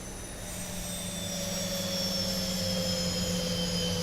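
Engines 1 and 2 on a Boeing 737-800 spool up in the X-Plane 12 flight simulator, a steady jet whine with high tonal lines and a low hum building gradually, no voices.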